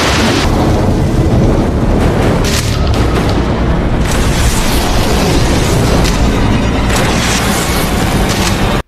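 A huge explosion in a film as a man is blown up, a dense, very loud rumbling roar that fills the whole stretch without letup and then cuts off abruptly at the end.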